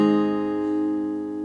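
One guitar chord is strummed in the first shape at the fourth fret of the low E string. It rings out close and clear with a full, sustained tone for about a second and a half, alone.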